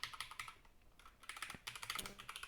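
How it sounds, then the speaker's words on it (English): Fast, uneven clatter of keys as someone types on a computer keyboard, close and fairly quiet, in short bursts with brief pauses and no talking. "we can type"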